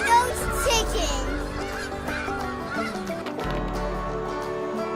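Ducks and chickens calling near the water at an RV campground, a busy overlapping stream of honks, quacks and clucks, fairly close and steady throughout.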